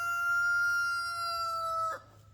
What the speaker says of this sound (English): He's got a long crow.